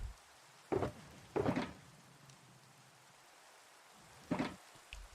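Rain in The Citadel game world, a low steady hiss with several louder rumbling swells rising and fading, like heavy gusts or distant thunder over the downpour.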